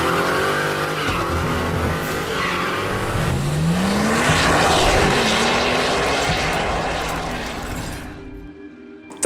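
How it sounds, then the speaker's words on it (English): A Bugatti car's engine roars loudly and steadily throughout a ride, with a rising pitch sweep in the middle as it accelerates, then cuts off abruptly near the end. "Let's get a ride in the Bugatti now"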